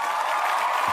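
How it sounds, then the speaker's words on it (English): A short burst of steady applause, dense clapping filling the moment at moderate loudness. "Round of applause."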